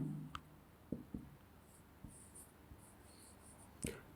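A pen writes on paper during a maths lesson: faint, sparse scratches and taps close by against a quiet room, with no talking.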